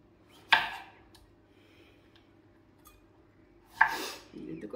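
Knife slicing through lemons for lemon pickle, two sharp cutting strokes a few seconds apart over a quiet kitchen background.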